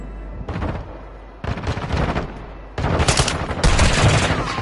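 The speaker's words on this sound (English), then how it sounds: "Taking fire!" Video game gunfire in bursts of rapid shots that start and stop, growing louder and denser toward the end, with heavy automatic fire dominating the last seconds.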